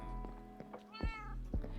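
A cat meows in a video game, a short sequence of tonal, clear meows close up, with no talking over them.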